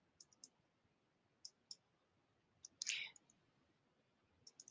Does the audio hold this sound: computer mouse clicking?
yes